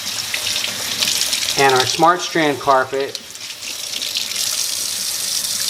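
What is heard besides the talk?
tap water pouring from a sink onto carpet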